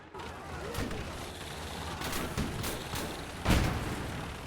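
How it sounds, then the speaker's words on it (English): Anti-tank rifle shots in the Gates of Hell: Ostfront war game, a few sharp booming reports spaced over several seconds, the last one loudest, over a low battlefield background. "Try to use the AT rifle."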